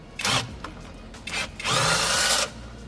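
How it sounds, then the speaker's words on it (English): A power tool zips out Phillips head screws from the strip tray of a Textron Prowler EV golf cart, three short whirring bursts close by, the last one longest. "Then you're going to remove these Phillips head screws right here in the strip tray on both sides"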